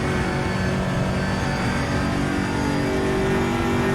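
Aquila CR1 race car in the RaceRoom Racing Experience game lapping Portimao, a steady, loud engine drone held throughout with no clear shifts or pauses.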